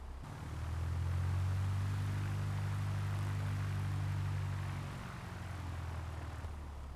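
A Piper PA-38 Tomahawk light propeller plane taxiing in Microsoft Flight Simulator, its engine a steady low droning hum that holds level for several seconds before easing off slightly.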